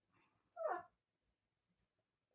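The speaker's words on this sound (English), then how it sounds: "Do y'all hear this little dog?" A small dog gives a short, faint whimpering whine close by, with a brief softer yip a moment later in an otherwise quiet room.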